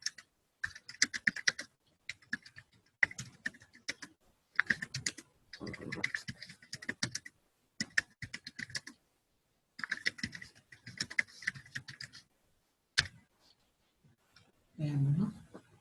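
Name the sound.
typing a comment on a computer keyboard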